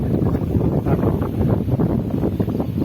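Steady wind gusting across a bitter gourd farm field, a continuous broad rushing with soft buffeting against the microphone, close and moderately loud, with no talking.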